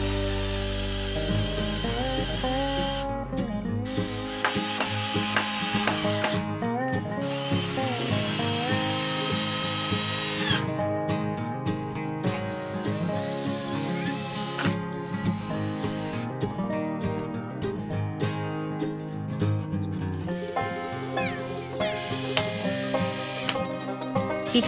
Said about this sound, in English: And then I screwed all of the boards into place.